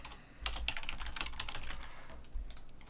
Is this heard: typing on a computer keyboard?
yes